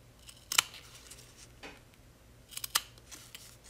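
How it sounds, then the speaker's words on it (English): Scissors snip through fabric along a stitched line for appliqué, two quiet bursts of cutting about two seconds apart, close and crisp against near silence. "going to cut right on that stitching line"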